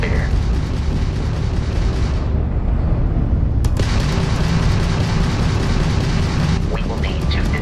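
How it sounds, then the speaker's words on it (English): In the space game Starfield, Crimson Fleet ship weapons boom and burst over a constant low engine rumble, with one sharp crack partway through; a voice speaks at times under the combat noise. "that's a Crimson Fleet ship bringing its weapons to bear"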